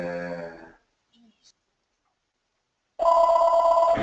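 A telephone rings close by with an electronic bell tone, one burst at the start and another after about two seconds of near silence, loud and alone with no talk over it.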